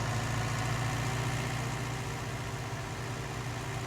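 A tractor engine idles at beet harvest, a steady low rumble with a constant throb that stays loud and close throughout.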